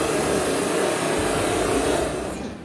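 Hair dryer running on its high-speed setting, a loud, steady broadband whoosh of rushing air close by, holding constant for a few seconds before easing slightly at the end, with no talk.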